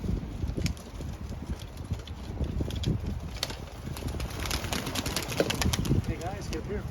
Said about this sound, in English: we're going to release this flock of doves in remembrance of all those loved ones